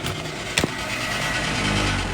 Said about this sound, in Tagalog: Buksan nga natin yung aircon.